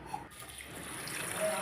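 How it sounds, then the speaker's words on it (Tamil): Green gram (mung beans) rinsed with water in a bowl, a soft continuous wash of running, splashing water, faint and close, with no talking. "இதை ஒரு பவுலில் வச்சு தண்ணீர் ஊற்றி நல்லா க்ளீன் பண்ணுதேன்"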